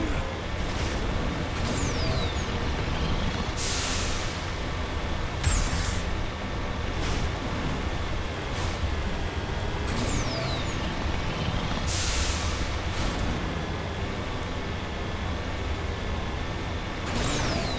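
An armored vehicle drives through Virmire in Mass Effect, its engine a steady loud roar with repeated sharp hissing bursts like air brakes or thrusters, and no talk over it.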